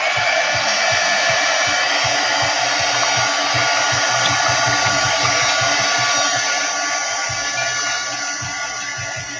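A hair dryer blows steadily on wet gouache paint, a continuous close whooshing drone with a fan hum that stays constant throughout and eases slightly near the end.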